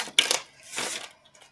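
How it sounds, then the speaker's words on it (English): Playing cards being shuffled and laid down during a love tarot-style reading, with two quick crisp riffles near the start followed by a softer sliding, riffling stretch and a faint tap at the end, close and without speech. "watch me shuffle and put cards down"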